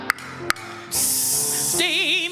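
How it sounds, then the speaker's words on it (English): Steady loud hiss of steam from a radiator as a sound effect in a song, breaking in after two sharp hits and holding as a bright broad rush under sung tones. "The radiator's hissing."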